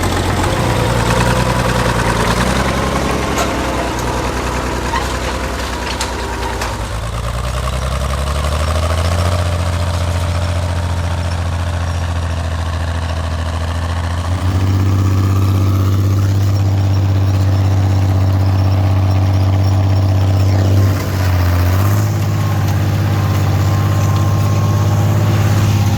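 An old tractor with a freshly rebuilt carburetor runs while pulling a cultivator through a field, a loud, steady engine drone that rises in pitch and load midway, then holds strong with brief dips.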